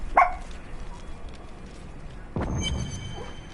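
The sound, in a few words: dog barking and howling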